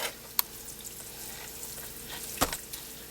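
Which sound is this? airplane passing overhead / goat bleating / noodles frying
noodles frying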